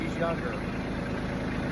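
Tractor engine idling steadily at close range on a front yard, a low continuous rumble with people talking over it throughout.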